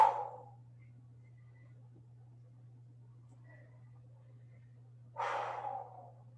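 Two audible breaths during a stretching workout, a forceful exhale at the start and another heavier breath about five seconds later, close and airy over a low steady hum, with quiet between them.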